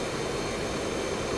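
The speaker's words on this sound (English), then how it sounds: "The shuttering is the plane stalling." A fighter jet in the DCS flight simulator game shudders while stalling, a steady dense roar of engine and airframe noise running without a break, no voices over it.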